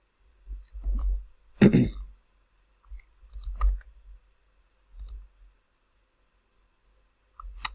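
Mouse clicks in Power BI desktop software, a few sharp isolated clicks spaced across a quiet stretch, with a brief spoken word near the end.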